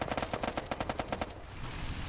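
Automatic gunfire in Arma 3 on an Afghanistan mission, a rapid burst of about a dozen evenly spaced shots lasting just over a second, then dying away into a noisy wash.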